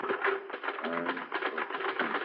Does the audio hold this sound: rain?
no